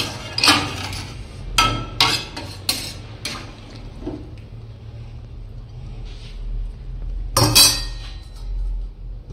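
A lid set on a pot of chicken pulao made with Gobindobhog rice: a few sharp metallic clinks and clatters close by, a final loud clank near the end, over a low background hum.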